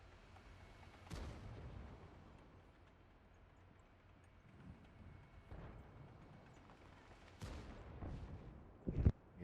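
Tank guns firing in a video game battle, a few sharp booming shots spaced irregularly over a quiet, low rumbling background, with the last shots coming closer together.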